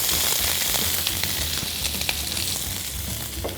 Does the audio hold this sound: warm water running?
no